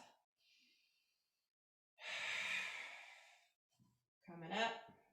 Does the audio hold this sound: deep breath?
yes